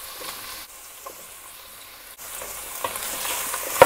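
Onions and mushrooms fry in meat broth in a pan, giving a steady close sizzle and hiss, with a few soft stirring clinks and a louder rush near the end.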